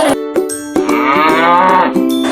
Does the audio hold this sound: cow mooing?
yes